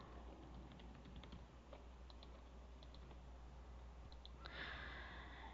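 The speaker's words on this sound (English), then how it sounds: "Type in my email." Email address being typed on a computer keyboard, faint scattered key taps over a steady low hum and room noise, with a soft breath near the end.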